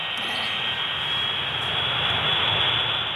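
In a virtual flight simulation, an airplane's engine gives off a steady, even whine and rushing roar that holds at a moderate level throughout, with no talking over it.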